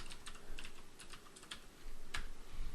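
Fingers tap a computer keyboard in quick irregular bursts of key clicks, close and fairly quiet, with short pauses between runs and no voices.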